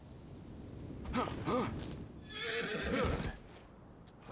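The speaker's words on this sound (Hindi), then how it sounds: "चलिए फिर से हमारा घोड़ा आ चुका है" Horse in the video game Game of Thrones: Kingsroad gives two whinnies, the first a wavering neigh and the second a longer breathy call, close and clear over a soft game-ambience background.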